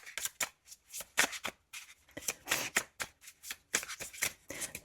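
Tarot cards being shuffled in repeated quick rustling bursts, each riffle and slide close and crisp, with short gaps between and no talking.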